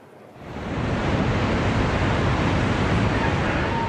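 Floodwater from the exploded Kakhovka dam in Ukraine rushes loudly and steadily, a broad continuous roar that swells in during the first second and then holds unbroken, with no voices.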